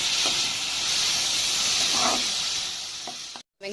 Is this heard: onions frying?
yes